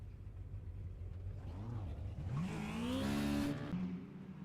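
Race cars on a dirt speedway in the iRacing video game rise from a low engine drone into a loud, climbing rev as one accelerates close by, then the pitch holds high before easing off.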